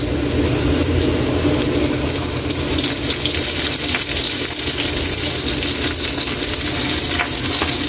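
Onion and garlic fry in hot oil in a pan, giving a dense, continuous sizzle with occasional stirring scrapes, close and fairly loud.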